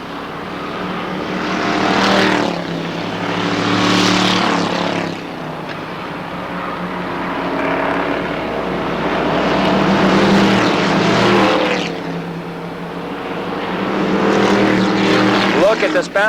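Late model stock cars race around Jennerstown Speedway in 1993, engines swelling and fading as the pack passes in waves, loud and continuous beneath an announcer's steady commentary.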